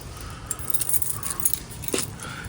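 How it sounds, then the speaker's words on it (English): Keys jingle and clink in a hand for a couple of seconds, light metallic rattles close by, with a few brighter chimes standing out over quiet room noise. "grab the keys"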